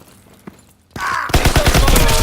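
Gunfire in the Far Cry video game: a single shot is followed by a loud, rapid burst of automatic fire that runs close and continuous to the end.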